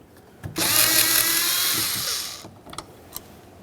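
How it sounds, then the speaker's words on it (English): Power screwdriver backing a Phillips head screw out of a 1994-1999 Honda Accord front interior door handle, a loud, steady whirring motor run of about two seconds, followed by faint clicks and taps. "I'll remove the Phillips head screw though."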